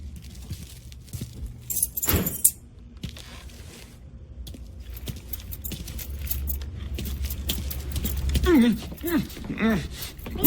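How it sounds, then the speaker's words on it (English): Keys jingle with a bright metallic shake as they are picked up in Mafia 3, a short jangle near the start followed by low ambient rumble and voices talking later. "Lincoln, pick up the keys"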